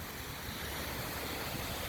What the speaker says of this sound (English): So you see the wave of water, right?